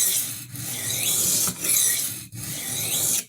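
Steady abrasive grinding on the damaged edge of a kitchen knife being reprofiled, a continuous rasping hiss that runs in long strokes with brief breaks, close and fairly loud, with no talking.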